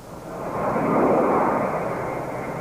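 American military jet planes take off from Riyadh Air Base with a loud, swelling roar that builds to a peak and then holds as a sustained rumble, with no voices over it.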